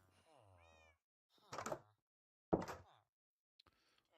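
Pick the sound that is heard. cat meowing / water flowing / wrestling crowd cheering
cat meowing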